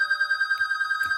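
A telephone bell rings in a fast, steady trilling pulse throughout, moderately loud, with faint thumps in the background.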